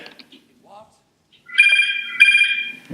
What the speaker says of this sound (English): No, this is the phone.